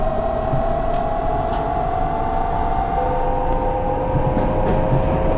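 A Japanese railroad train in the Train Crew game runs steadily and loudly, a constant rumbling roll with a sustained whining tone and faint rail clicks, with no one speaking.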